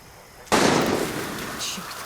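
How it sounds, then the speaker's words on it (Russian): A single loud gunshot blast bursts out in Far Cry 6, sudden and close, then decays into a long rumbling echo with faint background sound. "Черт, кто стреляет?"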